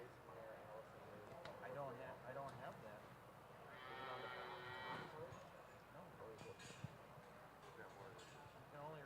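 Cattle at a state fair beef show moo amid the hubbub of a livestock ring, with a sustained bellow rising midway over steady crowd chatter and announcer-style talk.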